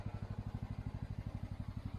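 Mygale 600 micro excavator engine running steadily at close range, a fast, even low thumping pulse with a light mechanical clatter and no talk over it.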